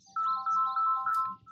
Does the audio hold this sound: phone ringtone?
yes